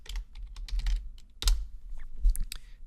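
Typing on a computer keyboard to enter a layer name in After Effects, a brisk run of close, crisp key clicks with a couple of heavier thumps, alone with no talk.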